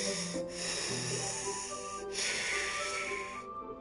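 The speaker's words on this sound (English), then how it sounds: "A sharp inhale, like someone sucking the air through their teeth." Sharp hissing inhale sucked through the teeth in the video game DDLC Plus, part of tense breathing heard up close, with two breathy intakes over a steady background hum.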